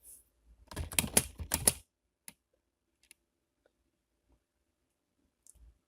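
A rapid flurry of crisp computer-keyboard keystrokes for an AutoCAD command clicks close by, followed by a few isolated taps spread over a quiet stretch.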